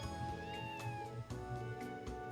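A cat in the video game Trails to Azure meows several times in a row, each meow short and clear over background game music.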